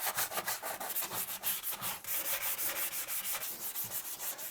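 Sandpaper rubs rhythmically over an old bathtub being prepared for an epoxy coating, quick repeated scratchy back-and-forth strokes, close and steady with brief pauses, no voices.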